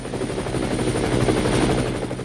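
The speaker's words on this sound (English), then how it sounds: "Oh hey, the chopper's here!" A helicopter arrives with its rotor thumping rapidly and steadily in a dense, continuous drone. It stays loud throughout, with no talking.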